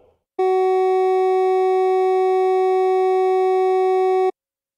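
One sustained pure synthetic tone sounds at the note G flat for roughly four seconds, starting and stopping abruptly.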